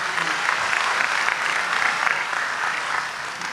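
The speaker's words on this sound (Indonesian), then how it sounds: "Tepuk tangan untuk beliau, enggak apa-apa." Audience applause breaks out at a religious talk, steady dense clapping filling the room for several seconds with a slight fade near the end.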